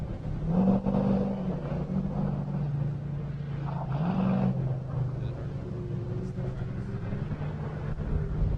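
An Ultra 4 off-road race car in the Limited class comes out of the woods at Dirty Turtle Off-Road Park in Bedford, Kentucky, its engine droning steadily with rising revs as it nears, with faint voices in the background.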